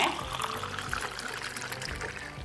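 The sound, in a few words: pouring cooked rose syrup into basil seed drink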